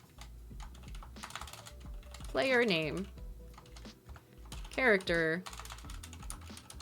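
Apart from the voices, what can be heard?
typing on a computer keyboard with freshly done nails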